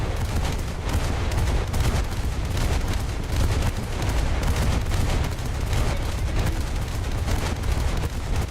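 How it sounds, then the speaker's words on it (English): An SKR warship's naval guns pound without letup in a naval combat game, with dense, rumbling salvos and explosions layered into a continuous roar. "There's SKR shooting."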